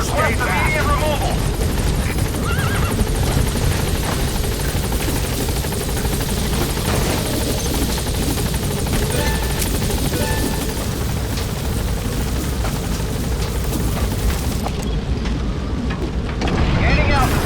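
Helicopter in Metal Gear Solid V landing and taking off, a loud, close, continuous rotor roar and whine throughout, with radio voices talking over it.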